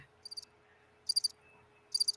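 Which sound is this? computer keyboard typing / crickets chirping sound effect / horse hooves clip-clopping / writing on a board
crickets chirping sound effect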